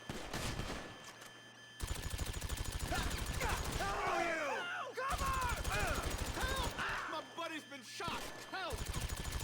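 Rapid automatic gunfire from a GTA V Online shootout with guards, dense bursts of repeated shots in long sustained runs with brief pauses, loud and close, with grunts and groans mixed in among the shooting.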